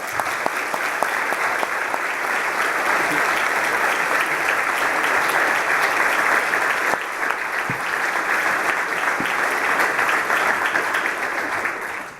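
Sustained, dense applause from an audience at a German Society symposium welcomes a speaker to the stage. Steady and fairly loud clapping fills the whole stretch with no break.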